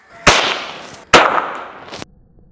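Two sharp, loud cracks from a homemade cork air gun fired close by, each a sudden bang trailing into a brief hissing decay, about a second apart, with no talking.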